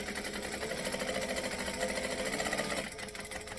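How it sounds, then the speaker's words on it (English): A sewing machine stitches forward and then back-stitches along a bag seam with a steady humming, rattling drone that stops near the end. "I'm going to stitch and back stitch"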